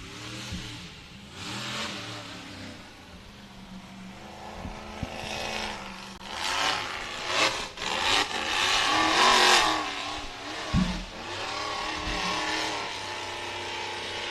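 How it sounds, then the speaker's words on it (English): Ford-engined off-road buggy races over rough uphill ground, its engine revving hard in surging bursts that rise and fall, loud and fairly close, with occasional thuds from bouncing. "definitely hear great power coming from that buggy"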